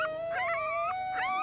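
Newborn puppies whimper and howl in thin, high, wavering cries that overlap, with a steady tone underneath, close and moderately loud with no speech.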